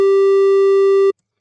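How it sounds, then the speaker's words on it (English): A steady synthesizer triangle-wave tone with no distortion, a single clean, loud, unwavering pitch holding for about a second before cutting off abruptly. "if I was to take this distortion off and then change this sine wave to a triangle wave"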